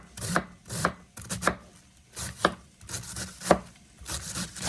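A sharp knife chops through cabbage on a cutting board, with close, irregular bursts of crunchy slicing strokes and thuds against the board.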